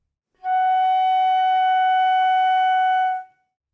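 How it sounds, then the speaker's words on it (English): A flute sustains a single F sharp in the second octave, one steady, clear tone held for about three seconds, then cut off cleanly, alone in silence. "The fingering for F sharp in the second octave is,"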